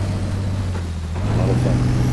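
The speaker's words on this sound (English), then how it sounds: "I want to get back into driving terrain vehicles now" Terrain vehicle engine in SpinTires, a steady low droning hum whose pitch rises slightly toward the end, loud and close and continuous.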